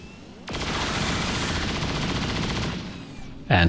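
A burst of sustained rapid gunfire from a grenadier soldier in the XCOM 2 video game rattles loudly for about two seconds, then stops before a short sharp impact sound at the end.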